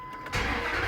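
Dodge, Ram or Jeep engine, such as a Dakota, Durango, Ram or Grand Cherokee, fixed after a no-crank, no-bus fault, catches after a faint pump hum and settles into a loud, steady close-up idle.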